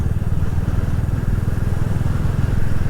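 A motorcycle cruising steadily along a road, its engine a continuous low rumble with a fine rapid pulse, close and even throughout with no talk.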